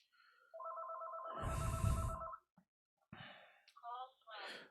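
A telephone rings in a lecture hall with a warbling electronic ringtone, loud for about two seconds while low rumble and a gasp sit under it, then breaths and short murmurs follow once it stops.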